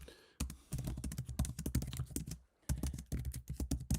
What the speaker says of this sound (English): I'm just typing a message to me